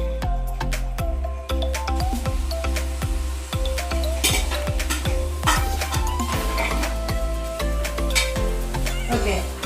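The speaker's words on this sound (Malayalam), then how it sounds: "ആ ഉള്ളി കുറച്ച് നേരം ഒന്ന് വഴരണം" Sliced onions sizzling in oil in a pot, loud and close, with a spoon repeatedly stirring and clinking against the metal in an irregular rhythm.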